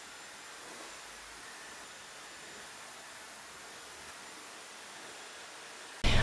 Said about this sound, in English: And now I'm ready to dry my hair.